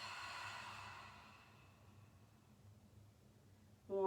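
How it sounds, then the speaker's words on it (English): A long, soft exhale from a deep yoga breath, breathy and airy, fading gradually into near silence before a voice begins speaking at the very end. "Take a deep breath in and let it out."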